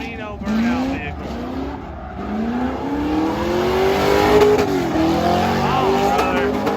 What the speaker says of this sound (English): Got an El Camino burnout vehicle.